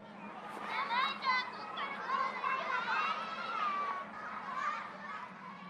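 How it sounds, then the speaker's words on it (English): Children at play behind a school gym in a visual novel game, their distant overlapping voices and shouts forming a steady, lively murmur throughout. "I hear kids playing behind the gym"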